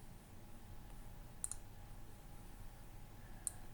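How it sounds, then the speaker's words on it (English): A computer mouse gives a few sharp, faint clicks, two close together and one later, over quiet room hiss while a window is dragged across the screen. "I'm going to click and drag to drag this other one out."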